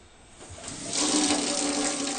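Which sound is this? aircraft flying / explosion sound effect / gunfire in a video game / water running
water running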